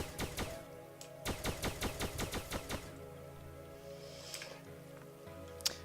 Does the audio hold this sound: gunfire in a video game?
yes